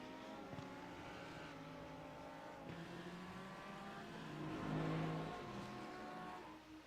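Grand Touring race cars at Daytona roar past at a distance, their engine notes rising and falling as they brake and accelerate through a corner, faint and continuous.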